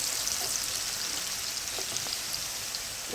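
Garlic and vegetables fry in a pan with a steady, close sizzle, a constant hiss scattered with small pops and crackles, and no talking.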